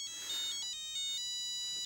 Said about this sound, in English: his kids changed the ringtone and he doesn't know how to change it back again